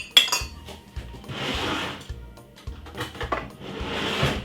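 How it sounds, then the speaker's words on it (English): A fork beats three eggs in a bowl for Christmas pudding batter: quick rhythmic metal-on-bowl clicks, with two longer bursts of rapid whisking between lighter taps, close and clear. "Beat your egg first, guys, please."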